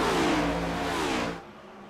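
Race car engines from a sim racing game on the Michigan oval roar loudly with a falling engine pitch as a car passes, then the sound drops off sharply near the end.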